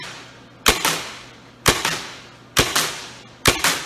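A paintball marker fitted with a Hammerhead barrel fires four sharp shots at an even pace, each a crisp pop with a short rattling tail, loud and close against a quiet background.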